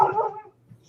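A single short dog bark, sharp and close, quickly fading into quiet, with no talking.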